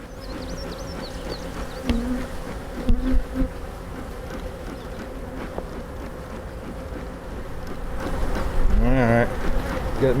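Honey bees buzz steadily throughout a beehive inspection, a dense continuous drone with a few louder passes near the end, while a person talks briefly over it.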